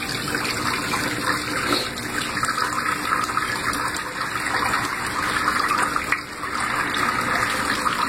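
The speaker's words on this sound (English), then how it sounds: "It's draining. You can just drain it in the sink, like here." Water drains steadily into a sink, a continuous close rushing and gurgling flow that holds at an even level with one brief dip near the end.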